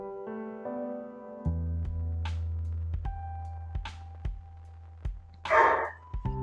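A dog lets out one short bark late on, close by, after long stretches of steady electronic hum broken by scattered clicks and brief faint noises.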